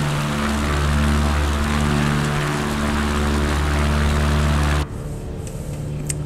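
An ERCO 415 light aircraft engine roars at full throttle in Microsoft Flight Simulator, a loud steady propeller drone with strong low harmonics that cuts off abruptly near the end, leaving a faint hum.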